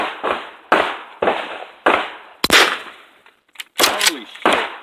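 Pistols and a shotgun fire at an outdoor gun range, about eight loud, sharp, close reports in an irregular rhythm, some in quick pairs, each ringing out briefly.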